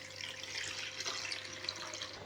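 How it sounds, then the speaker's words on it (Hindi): Water with khus khus (poppy seeds) poured from one vessel into another, a steady close splashing trickle running without a break, with no voices. "अब ये इसके दाने ऊपर हैं, ये दूसरे बर्तन में ये उंडेल दूंगा"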